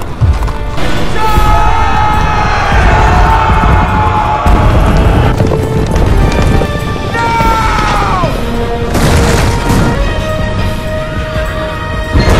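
Cavalry horses charge in a Chronicles of Narnia film battle against the Telmarines, a loud, dense roar of hooves, crashes and impacts that runs continuously throughout.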